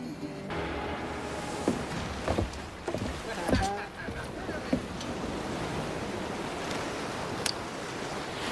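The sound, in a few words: sailing ship at sea in video game Assassin's Creed 4: Black Flag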